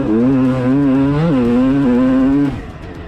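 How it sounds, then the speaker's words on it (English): A 1997 Honda CR250 motocross bike warms up with a loud, steady buzzing engine note close by. The pitch lifts briefly with a blip of the throttle, holds, then drops away near the end. "So we see Ed here just warming up on the bike, getting the machine warmed up as well."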